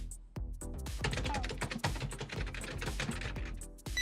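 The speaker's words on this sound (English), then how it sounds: "you'll have to type everything by hand" Fast typing on a computer keyboard in an office: rapid, close, crisp key clicks in a dense, uneven stream with brief pauses, loud and alone.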